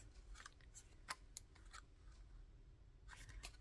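Scissors snipping paper for a handmade waterfall journal from a craft kit, a few sharp close cuts scattered over a quiet background, with a cluster of quick snips near the end.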